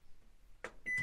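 A microwave oven heating a packaged ready meal: a quiet hum, then a few short electronic beeps and clicks close by near the end, with no talking.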